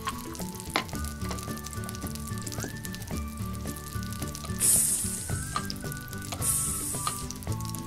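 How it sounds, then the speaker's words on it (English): A bright, crackly sizzle like food frying in a pan, a toy play kitchen's cooking sound effect, hisses steadily, with small clicks and taps from handling, close up and without speech. "Can you hear that sizzle?"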